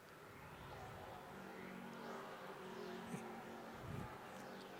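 A late model race car roars down the straightaway at a dirt or short-track race, its engine droning steadily at a distance with faint crowd and track ambience underneath.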